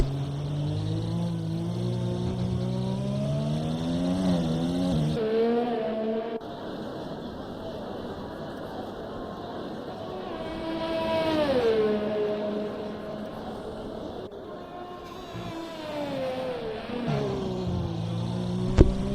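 Several race cars pull out of the pit lane during a Formula racing game session in Abu Dhabi, their engine tones rising and falling in overlapping sweeps at moderate, steady loudness, with a brief dip partway through.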